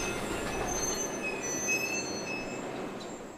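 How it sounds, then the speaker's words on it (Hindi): Steady rumble of a train riding the rails with thin high wheel squeals, fairly quiet and fading slightly toward the end, with no clear sudden stop; no talking. "तभी ट्रेन अचानक झटके से रुक गई।"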